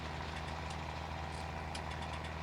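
A 110-horsepower tractor in a farming video game idles with a steady low engine drone and an even hum, continuous and unchanging, with no talking.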